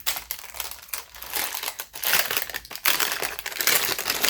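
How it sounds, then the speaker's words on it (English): Crinkly plastic packaging on a fortune-cookie-shaped soap crackles and tears as a sticker is peeled off, close and continuous with louder bursts toward the end. "So let me peel the sticker."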